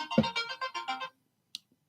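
Ringtone of an incoming telephone call: a short melodic electronic tune of five or six quick notes, then silence broken by a faint click.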